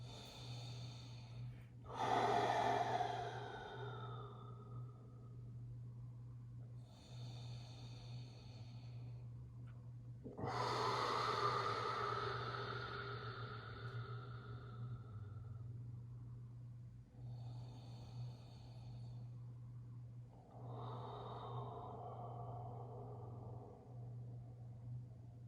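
Slow, deep breaths during a yoga class: three long breathy inhale-exhale cycles, soft and close, over a constant low hum, without speech.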